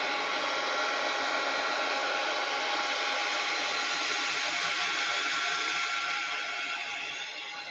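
A hair dryer blows steadily on a wet art journal page, a loud, even whooshing roar that holds for several seconds before easing slightly at the end.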